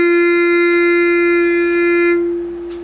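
A single sustained violin note, F natural bowed on the D string, rings steady and clear for about two seconds before fading out, close and alone.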